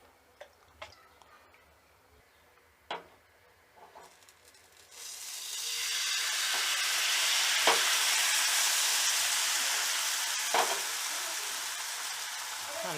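Spinach ghavne batter hits a hot griddle. After a few light clicks and taps, a loud broad sizzle rises suddenly and holds steady, and a few sharp ticks cut through it.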